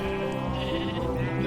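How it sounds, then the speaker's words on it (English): Sheep and cows in a barn in Minecraft bleat and low loudly and continuously, a dense overlapping chorus of farm animal calls filling the short stretch. "on the first floor, here's the sheep and the cows, so it's really loud"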